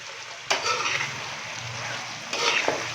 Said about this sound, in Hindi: साथ ही हम इसके अंदर बीफ भी डाल देंगे